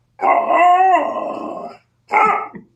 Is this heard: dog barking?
yes